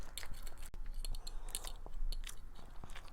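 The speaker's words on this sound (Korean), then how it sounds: "꼭꼭 씹어 먹어요." A child chews kimchi fried rice close to the mic, with soft, wet, irregular bites and crunches repeating over about three seconds and no talking.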